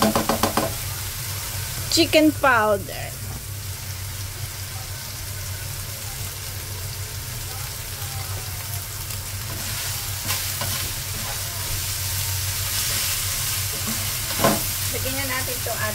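Palabok sauce sizzles and bubbles in a hot pan as a spoon scrapes and knocks while stirring, under an ongoing soft hiss, with a voice speaking briefly.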